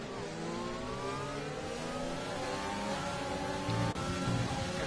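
A Renault race car in a racing video game revs hard near the Hungary circuit, its engine note climbing steadily through the gears in a continuous loud whine with no talk over it.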